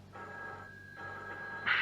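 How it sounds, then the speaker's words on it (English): An old telephone sounds a sustained electric ringing tone that holds steady, then ends in a brief, louder burst of bell-like ring, close and clear with no voices. "I hear the telephone."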